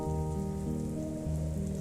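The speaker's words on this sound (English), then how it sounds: "Here we have our rainy little island." Steady rain patters across a small island in the building game Islanders, a soft continuous hiss with background music playing underneath.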